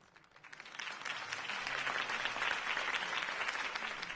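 Crowd applause for Harvey Dent's campaign speech in the Batman Telltale Series game, rising from a quieter start into steady, dense clapping that holds at full strength with no voices over it.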